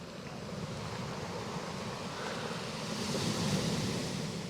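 Sea waves rolling onto a Bristol Channel beach on a sunny day, a continuous broad wash of surf with light wind rumble, swelling slightly louder toward the end, no voices.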